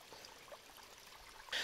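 Water running through a village irrigation channel in a Himalayan village in Uttarakhand, a soft steady trickle and gurgle heard close and faint, with a brief louder splash at the end and no talking.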